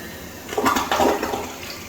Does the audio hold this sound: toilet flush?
yes